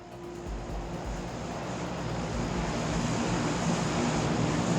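Steady droning airplane engine in the PlayerUnknown's Battlegrounds video game: a continuous, moderately quiet hum that swells slightly louder over the seconds, with no other sounds.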